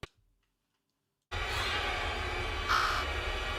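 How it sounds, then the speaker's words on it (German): A crow caws in the video game Bramble: The Mountain King, a harsh call over a loud, steady game soundscape that cuts in suddenly after a moment of silence. "Vogel!"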